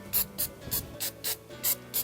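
Rhythmic bursts of an aerosol spray can applying chipping-effect paint, about eight short hissing sprays evenly spaced, close and fairly loud, with no talking.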